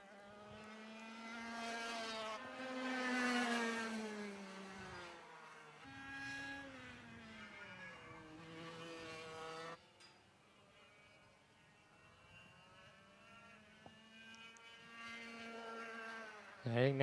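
A racing kart engine at the Nutts Corner circuit in Ireland, choked slightly more than usual, whines in a buzzy harmonic drone that rises and falls with throttle changes through corners, steady and moderately close.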